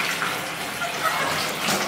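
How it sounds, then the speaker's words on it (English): Water pours steadily from the tap into a deep, luxurious hotel bathtub in Paris, a continuous close gushing wash with no pauses. "I'll turn on the water so you can see what it looks like because it's pretty"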